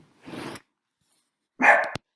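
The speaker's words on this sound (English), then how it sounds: "I couldn't do any more with the dog yipping in my ear" A dog yips in short, sharp bursts close to the microphone, three quick barks separated by silence.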